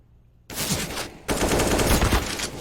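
Sustained automatic gunfire from CS:GO sprays through a smoke grenade, starting abruptly, briefly pausing, then resuming as a loud, dense burst close up.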